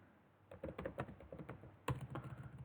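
Quick bursts of keystrokes on a computer keyboard during a Laravel and Vue coding session, fast and close, with a brief pause and then a louder clack before the typing resumes.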